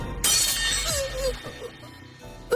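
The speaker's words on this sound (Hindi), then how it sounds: "तलवार टूट गई।" A sword shatters during a demon-slayer game fight, a loud bright burst of breaking metal that rings and scatters for a couple of seconds before fading.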